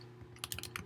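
Quiet tapping on a computer keyboard while writing C++ code, a short cluster of soft, close key clicks in an uneven rhythm over a faint steady hum.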